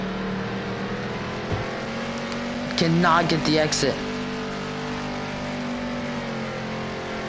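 Race cars roar around the Bristol dirt track in a NASCAR-style video game, a steady engine drone running throughout with a brief burst of higher revving in the middle, under ongoing commentary talk.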